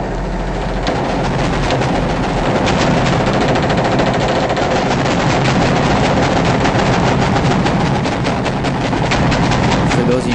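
Loud, sustained automatic gunfire is shot into a mosque, dense rapid bursts hammering almost without pause for about ten seconds, close and harsh.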